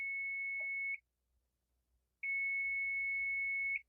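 A multimeter tests a capacitor in a DSLR camera battery charger and sounds a loud, pure continuous beep. The tone lasts about a second, stops for a gap of near silence, then returns for over a second and a half.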